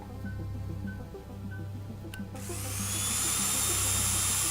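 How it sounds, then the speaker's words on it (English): Electric drilling whine in the video game Stories Untold starts abruptly partway through and keeps going, loud and steady with a high pitched tone, over a constant low mechanical hum of lab equipment. "Why are we drilling into it?"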